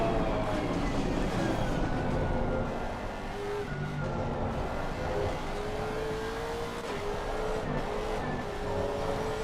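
Race cars roar around the Spa circuit in a racing video game, a dense, steady engine drone with shifting whining tones as several cars run close together throughout.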